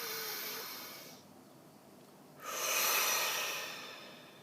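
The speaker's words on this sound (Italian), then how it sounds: "facciamo un bel respiro profondo" A deep breath drawn in slowly and released in a long, strong exhale, close and alone, with a short quiet gap between the inhale and the outflow.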